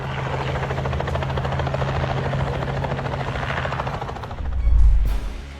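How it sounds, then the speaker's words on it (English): A Robinson helicopter flies extremely low, clipping the tops of several trees, its rotor chopping in a loud, steady, rapid beat that holds throughout before a heavier low rumble swells near the end. "The Robinson helicopter was caught on camera flying at an extremely low altitude"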